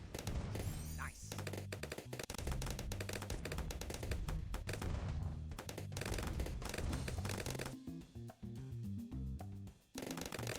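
A Dartling Gunner tower firing in the video game Bloons TD 6, heard as rapid, dense rattling shots that run almost without a break, with a person talking over them.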